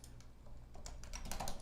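Fingers type quickly on a computer keyboard while someone chats, a busy, uneven run of soft key clicks growing slightly louder, close and fairly quiet with no talking.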